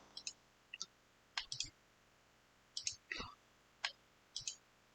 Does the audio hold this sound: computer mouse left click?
yes